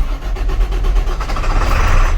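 A 2007 International 7300 truck's diesel engine cranks over with a rapid rhythmic chug and then catches into a rough, loud running rumble, heard up close.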